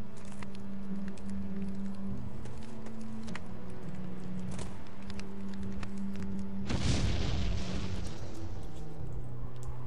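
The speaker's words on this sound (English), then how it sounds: "I like a good explosion as much as the next fellow, but not when I'm the target." A sudden explosion bursts in the And Then There Were None video game, a loud, broad boom erupting after a stretch of quieter tonal background sound and decaying into rumble.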